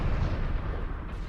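LB autocannon shrapnel rounds fire in MechWarrior Online as a heavy, booming burst of artillery-like blasts, loud and dense, rolling on without a break for over a second.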